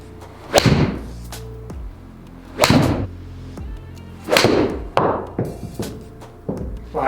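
Sharp iron strikes on golf balls, a TaylorMade P790 or P760 6 iron, several crisp impacts spaced about two seconds apart, close and loud, with ringing decays and no talking.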